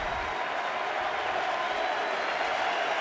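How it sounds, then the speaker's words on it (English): A ballpark crowd at a Chicago Cubs home game against the White Sox sends up a steady, dense roar of applause and cheering that holds for several seconds without a break. "We'll let the crowd take you to break."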